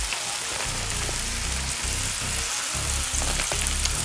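Bacon wrapped hot dogs cook on a gas grill set to medium low, throwing off a dense, continuous close sizzle and crackle with no talking.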